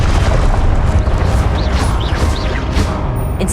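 A Confringo blasting spell in the Hogwarts Legacy video game erupts as a loud, sustained explosive boom with a rumbling low end, and several bright whooshing bursts flare over it for a few seconds.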